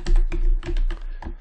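A computer keyboard tapped out in a quick run of close, crisp keystrokes, several presses in uneven rhythm as a shortcut is entered, with no talking.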